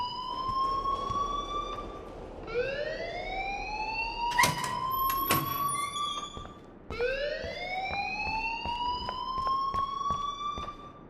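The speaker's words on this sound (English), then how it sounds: "please turn off that alarm since that's your job" School alarm ringing in the game Life Is Strange, a loud rising electronic siren tone that sweeps upward repeatedly in long cycles, with sharp bangs and clatter partway through.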